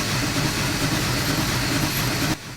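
Steady, loud rumbling of a Big Boy steam locomotive under way in the Train Sim Classic video game, a heavy, continuous engine and rail drone that drops away abruptly near the end.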